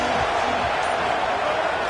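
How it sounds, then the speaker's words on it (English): A dense, steady roar of a stadium crowd at a football game, loud and continuous without distinct peaks, filling the whole moment like a wall of massed voices. "This crowd ready to make its presence known."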